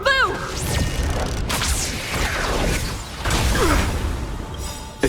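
A bow bolt fired in the video game Honkai Star Rail, heard as loud whooshing sweeps and mechanical clatter over dense game effects and music, with a sharp snap at the very end.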